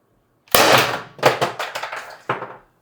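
A Byrna LE launcher firing a 4.6 g LLB round: one sharp, loud crack followed by several quick rattling clacks and a final clack, all close up and with no voice over them.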